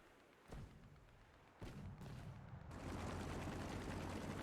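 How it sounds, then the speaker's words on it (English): Anti-aircraft artillery fires in War Thunder, heavy booming thuds landing in a few distinct bursts that swell into a dense rumbling roar of in-game combat noise, with no talking. "One shot from the AAA."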